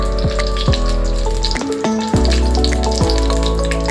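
Sesame oil sizzles and crackles in a hot pan while cooking vanjaram fish curry, a loud, steady frying hiss with bubbling, heard up close and without voices.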